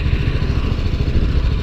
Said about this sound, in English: There goes a couple of Harleys